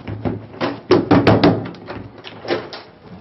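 A door is opened in a house, giving a cluster of wooden thunks and knocks close by, followed by a softer bump, with no talk.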